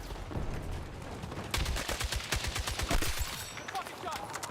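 Automatic gunfire in the game Battlefield 6, first a background crackle, then a close, rapid burst of shots with scattered fire behind it. A voice speaks briefly partway through.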